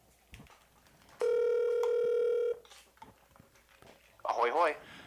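A phone placing an outgoing call sounds a single steady ringing tone of about a second and a half. Quiet handling noises come before it, and a brief chirpy burst follows.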